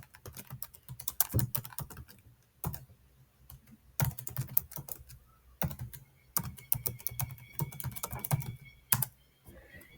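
Fast, uneven keystrokes clatter on a computer keyboard while a virtual lab is set up for ethical hacking, the bursts coming in runs broken by short pauses, close up and with no one speaking.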